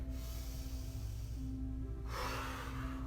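Slow yoga breathing, a long audible inhale followed by an exhale, close and soft over a steady background hum with faint music.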